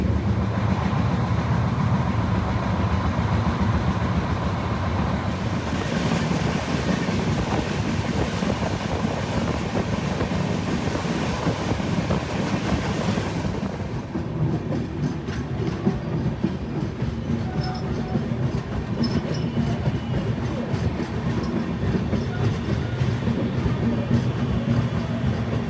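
A passenger train runs on the line between Kolkata and Asansol, giving a loud, steady rumble and rhythmic wheel clatter from on board that continues throughout without any talk.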